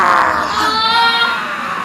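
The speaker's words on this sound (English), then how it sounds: "And you start to hear these screams" Distant screaming and wailing voices rise in a continuous, loud wash, set as a sound effect for a Dungeons & Dragons session.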